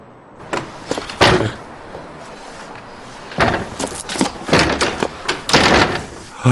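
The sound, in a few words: someone pounding on a door, threatening to break it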